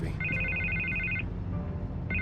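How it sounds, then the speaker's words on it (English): An electronic telephone rings in the Batman Telltale Series game, a steady trilling burst lasting about a second, a pause, then the ring starting again, over a low room hum. "I can't get the phone to stop ringing."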